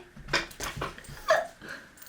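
A dog whimpers close by in a few short, soft whines and breathy yips, quiet and separated by brief pauses.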